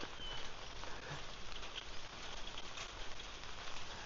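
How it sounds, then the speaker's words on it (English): Rain falls on a rainy morning in Phuket, Thailand, a steady dense patter of drops on surfaces. The hiss is continuous and even, soft and enveloping, with no voices. "Welcome, Derek, to a rainy day."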